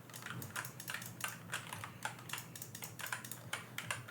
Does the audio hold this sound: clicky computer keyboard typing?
yes